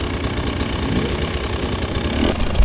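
A 2024 Husqvarna TE 300 dirt bike engine runs steadily in second gear with the clutch pulled, a loud, close, continuous buzzing drone with rapid pulsing and a slight rise near the end.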